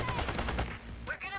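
AK rifle fire in the heist video game Payday 3: rapid, close bursts of shots in a steady rhythm for about half a second, then a voice talks over quieter game sounds.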